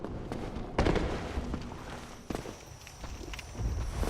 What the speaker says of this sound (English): Hear lots of stomping.